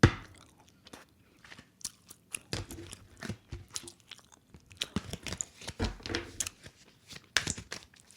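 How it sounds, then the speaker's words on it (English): Gum being chewed close to the mic by someone quitting smoking, with wet, irregular smacks and crunchy bites repeating steadily and no talk over them. "I'm chewing gum because I'm quitting smoking again"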